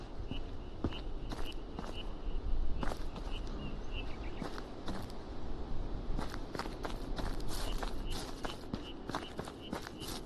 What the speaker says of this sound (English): Sounds like footsteps.